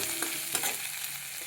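Chickpea usal filling fries and gets stirred in a pan, a soft steady sizzle broken by a few scraping stirs, close and alone without any voices.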